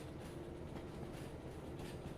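A locomotive rolling away unattended in the train-simulation game Derail Valley, giving a continuous low rumble of wheels on rails with faint rhythmic clatter, steady and fairly quiet.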